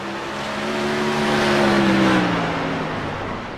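Silver Crown race cars lapping Irwindale Speedway in iRacing roar loudly and steadily, engine pitch rising and swelling as they sweep close, with no talk over them.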